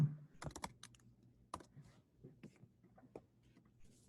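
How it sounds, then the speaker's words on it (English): Keys on a computer keyboard clatter in quick irregular bursts of close clicks with short pauses between them, over a quiet low hum. "What are you typing out?"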